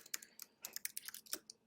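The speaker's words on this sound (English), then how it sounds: "There's really no reason why I am typing this in all capitals." Bursts of keystrokes on a computer keyboard while entering line items in budget software, an irregular close-up clatter of roughly a dozen clicks with no talking.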